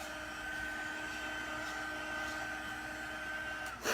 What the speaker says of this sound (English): I'm going to take our heat gun and just help blow some of that off